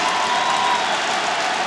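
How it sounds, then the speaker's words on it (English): A stadium crowd at the Wake Forest at Syracuse college football game roars loudly and continuously, a dense wash of cheering with no break. "How will Wake Forest handle this crowd noise with the silent count?"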